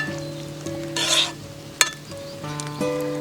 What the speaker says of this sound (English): I'm gonna use this little saucepan here. So it has some garlic cooking there already.